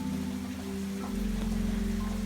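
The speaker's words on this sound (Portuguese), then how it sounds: "A chuva cai devagar, batendo no telhado como um tambor bem suave" Gentle rain falls steadily on a wooden chalet roof in winter, a soft continuous patter over a low, even hum with no pauses.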